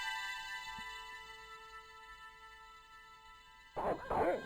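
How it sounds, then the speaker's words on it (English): Dogs barking in the point-and-click adventure game Broken Sword: The Shadow of the Templars, two short bursts of barking near the end over a steady tonal game background hum. "Oh, dogs."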